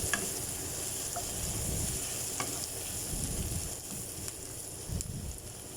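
Fresh pineapple sizzling in a pan for sweet and sour chicken, a steady close frying hiss with occasional stirring scrapes and clicks, no talking.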